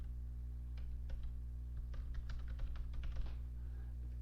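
Keys clatter on a computer keyboard as text is typed into a PowerPoint 2016 WordArt, a quick run of close, light clicks in irregular bursts over a steady low hum, with no talking.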